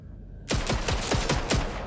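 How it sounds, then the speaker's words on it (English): Guns fire in Vampire: The Masquerade - Bloodlines 2 while held aloft by telekinesis, a sudden loud burst of about six rapid, evenly spaced shots with no one talking. "Oh, you can fire the guns while using telekinesis."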